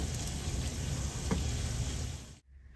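Garlic frying in hot oil, an even close sizzle that cuts off abruptly near the end, followed by near silence and a faint bump.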